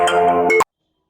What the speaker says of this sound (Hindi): मोबाइल के फोन आने से थोड़ा डिस्टर्बेंस हुआ है